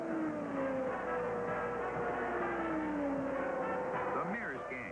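Indy 500 race cars from the 1979 race roar around the track in a steady, loud engine drone with rising and falling pitch as cars pass, under a commentator's voice.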